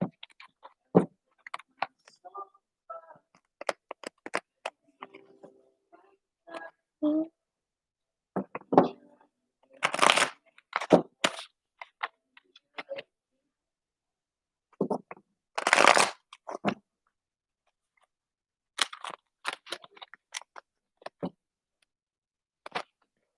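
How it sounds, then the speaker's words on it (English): Starseed oracle cards are shuffled in bursts of papery riffles and flicks, close and intermittent, with a person talking between the shuffles. "Pulling a couple starseed oracle cards for my girl Jen"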